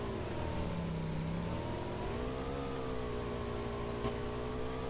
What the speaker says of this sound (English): As we see him drive this bike beautifully across the grasslands and heading towards a house.